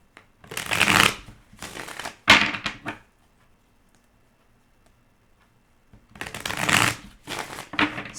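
Tarot cards shuffled by hand in bursts of riffling and sliding, two close, loud runs separated by a few seconds of near silence, with no talking.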